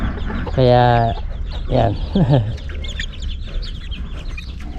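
A brooding hen and her chicks cluck close by in a series of short, throaty calls, with someone speaking briefly between them.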